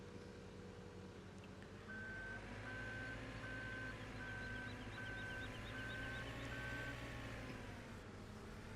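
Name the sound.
JCB machine moving with reversing beeps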